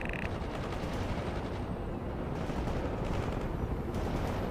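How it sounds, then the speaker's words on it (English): Continuous covering gunfire in World in Conflict, a dense, loud crackle of overlapping shots and explosions sustained without pause. "Covering fire! Attack the enemy with whatever you got!"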